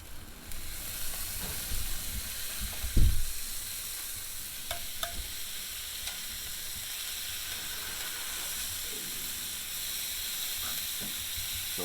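Skirt steak sizzling over an open firepit, a steady hissing crackle near and even throughout, with a dull thump and scrape as the meat is flipped early on and a few faint pops after.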